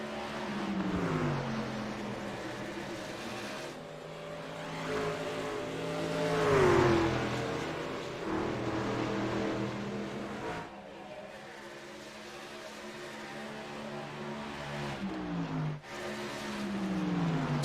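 Race trucks battle around the Phoenix oval, their engines droning and shifting pitch as they pass, with a steady roar that swells and fades without any talk.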